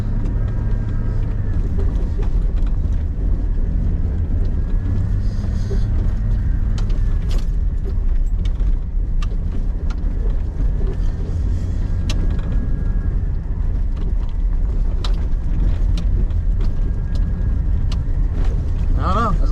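A four-wheel-drive vehicle grinds along a rough Alaskan trail near the Tanana River, its engine rumbling loud and close, punctuated by scattered knocks and rattles throughout.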